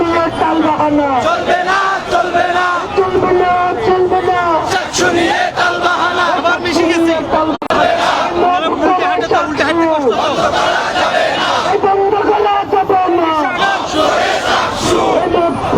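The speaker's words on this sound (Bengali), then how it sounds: "স্লোগান ধীরে ধীরে এগিয়ে যাচ্ছে মহানগর শিবিরের সদস্যরা এবং নেতৃবৃন্দরা।" A large crowd of student activist members and leaders chants slogans in loud unison as a rally procession moves slowly forward, voices rising and falling in a steady shouted rhythm throughout.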